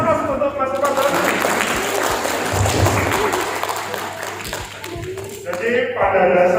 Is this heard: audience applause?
yes